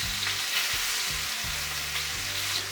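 Chuck roast searing flat in a hot, smoking pan, a steady broad sizzle with a low, uneven rumble beneath it, fairly quiet and continuous, no voices.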